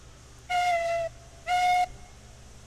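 Two long steam locomotive whistle blasts from the Railroads Online railway game, each about half a second, steady and clear with rich harmonic overtones over a faint low rumble.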